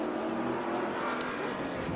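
Pro Cup Monaro race cars lapping Sandown circuit in Victoria, a steady broadband engine roar holding level throughout with no clear individual pass, the pack blending into one continuous drone.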